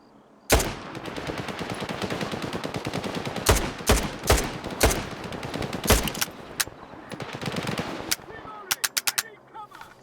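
Enemies open fire in the video game S.T.A.L.K.E.R. 2, with loud, sustained automatic gunfire and sharp single shots cracking through a dense barrage, ending in a rapid burst of closely spaced shots.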